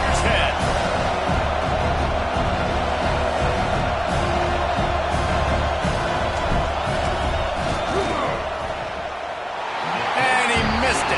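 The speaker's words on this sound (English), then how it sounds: "This crowd trying to do its part to get inside the kicker's head." A football stadium crowd roars steadily and loudly as a kicker lines up a late-night fourth-down field goal, a dense sustained wall of cheering and yelling that dips briefly near the end before swelling again.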